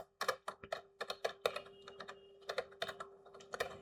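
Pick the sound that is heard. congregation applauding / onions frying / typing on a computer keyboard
typing on a computer keyboard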